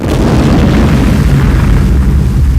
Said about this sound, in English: a plastics plant exploded when a forklift pierced a gas line